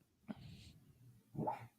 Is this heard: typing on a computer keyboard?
no